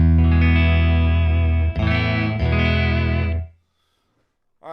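Electric guitar on a Kiesel Delos fitted with a Gotoh tremolo, played through distortion with reverb and chorus effects, sustained chords ringing loud and close for about three seconds before cutting off into silence, with a short new strum at the end.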